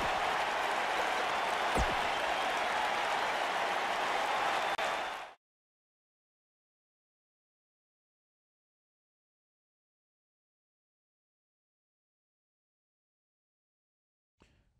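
A live arena crowd in the WWE 2K19 wrestling game cheers and applauds in a dense, steady roar for about five seconds, then cuts abruptly to silence.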